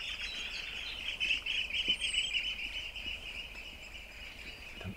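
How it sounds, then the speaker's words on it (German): Birds chirp outdoors in a steady, bright chorus of overlapping tweets. It runs throughout at moderate distance, with faint background noise and no talking. "Vögel."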